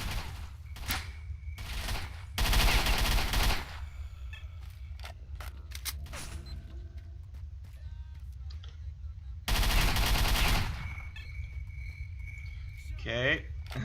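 Submachine gun fire in the video game S.T.A.L.K.E.R.: Shadow of Chernobyl, two loud bursts of rapid shots about seven seconds apart, with quieter clicks and game ambience between them.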